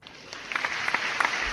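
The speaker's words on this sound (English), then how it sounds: "Applause for everybody that is tuning in from around the world" Steady applause of scattered claps builds quickly and keeps going at moderate loudness for a stream audience tuning in, with no voices heard over it.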